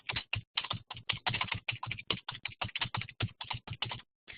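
Rapid, steady typing on a computer keyboard, dense close keystrokes in quick succession with a brief pause near the end, alone with no talking.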